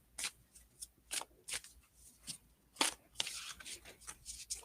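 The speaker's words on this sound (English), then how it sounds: "So for sure, Trina, let's just shuffle these cards." Oracle cards shuffled by hand in quick, uneven bursts of crisp riffling and flicking, close and fairly quiet, with no talking.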